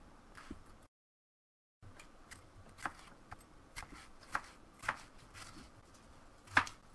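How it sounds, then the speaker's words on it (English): A kitchen knife slices a seeded pepper into strips on a cutting board, a series of quiet, crisp taps in an uneven rhythm that grow a bit sharper toward the end, with a short silent gap early on. "I'm just going to slice this into strips"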